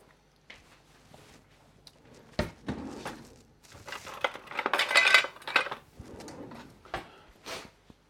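Metal cutlery and utensils clatter and clink while someone rummages through a kitchen drawer for a spatula during carrot cake baking, in irregular bursts that peak midway, with no talking.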